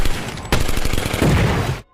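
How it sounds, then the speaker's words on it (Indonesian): Rifle gunshots in a werewolf film ring out as a dense, loud burst of rapid cracks lasting under two seconds, then cut off abruptly into silence. "seenak jidatnya dia menembakkan senapannya hanya untuk berlatih menghadapi bahaya yang diciptakan"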